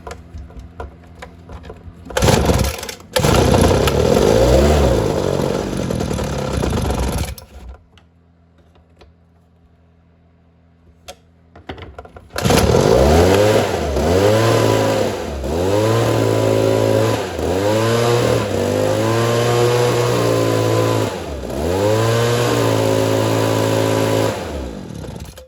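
Ryobi leaf blower small two-stroke engine, freshly carburetor-adjusted, starting with a short burst, pausing near silence, then revving loud and close in repeated rising and falling throttle swells.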